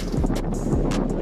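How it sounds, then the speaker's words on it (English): Blustery wind gusts buffet an outdoor city street, a steady low rumble swelling and easing through the short stretch. "It's the wind."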